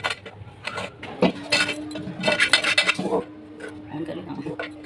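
A metal cooking pot holding milk and cream clanks and scrapes as it is handled and set down in a home kitchen. The clinks and knocks come in irregular bursts while someone talks over them.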